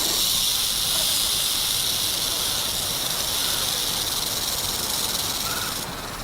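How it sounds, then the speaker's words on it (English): A rattlesnake rattling its tail, a steady, loud, continuous high-pitched buzzing hiss that holds unbroken throughout and eases slightly at the very end. "the rattle is one of the most effective defenses in nature, giving fair warning in plenty of time"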